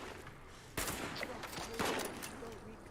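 Video game gunfire at a shooting gallery, sharp shots cracking out in quick bursts over a constant background hiss, with faint voices in the mix.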